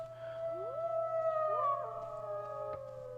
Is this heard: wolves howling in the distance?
yes